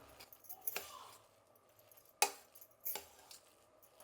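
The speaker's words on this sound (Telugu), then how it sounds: "అన్నం బాగా ఉడికింది. గరిటితో ఇట్లా మెదుపుకుందాము" A ladle scrapes and knocks inside a pressure cooker while well-cooked rice is mashed, giving three or four sharp metallic clacks spaced apart with faint scraping between them, close and fairly quiet.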